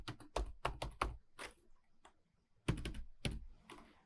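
Close computer keyboard typing of code, a quick burst of crisp key taps, a short pause with a few stray clicks, then another rapid flurry of keystrokes, no speech.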